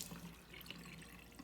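Water running steadily from a working tap, a faint continuous rushing and splashing heard from close range with no talking.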